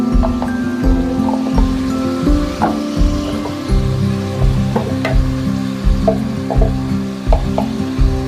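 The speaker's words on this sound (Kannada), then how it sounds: "ಎಣ್ಣೆ ಬಿಸಿ ಆದಮೇಲೆ ಚಿಕನ್ ಉಪ್ಪು ಅರಿಶಿನ ಹಾಕಿ ತೊಳೆದಿಟ್ಟಿರೋ ಚಿಕನ್ ಇದಕ್ಕೆ ಸೇರಿಸ್ಕೊಂಡಿದ್ದೀನಿ." Washed chicken pieces seasoned with salt and turmeric fry in hot oil for a chicken gravy, giving a steady close sizzle broken by repeated knocks and scrapes of stirring.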